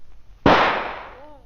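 A single sharp gunshot from a radio drama scene in which a woman shoots herself, striking loud and sudden after a quiet moment and ringing out in a long decaying tail.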